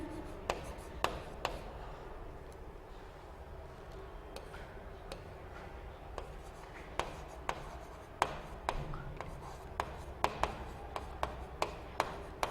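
Chalk or marker writes steadily on a board in a physics class, with a run of scratchy strokes and sharp taps spaced irregularly, close and fairly quiet, with no talking.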